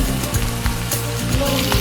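Chicken teriyaki frying in a pan gives a steady close sizzle over a low hum, with a few soft clicks, and no talking.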